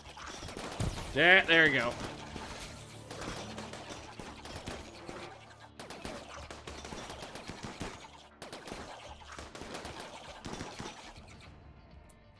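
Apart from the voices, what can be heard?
colonists shooting guns, video game RimWorld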